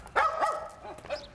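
A dog named Patch barks a few sharp, close times in quick succession, with a short whimpering yip at the end and nothing else behind it.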